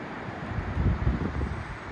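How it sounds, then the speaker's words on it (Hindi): Cold wind blows through a mountain valley near Lanka Bridge at Gangotri, pushing a broad rushing gust that peaks midway across the microphone. "ये हवा चल रही है यहाँ पे, बहुत ठंडी ठंडी"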